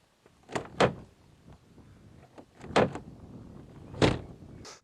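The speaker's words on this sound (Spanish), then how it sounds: "Cuando abres la puerta, las dos superficies se tocan." A damaged car door with a bent panel is worked open and shut, giving three sharp thudding knocks spaced a second or more apart, with quieter shuffling and creaks between.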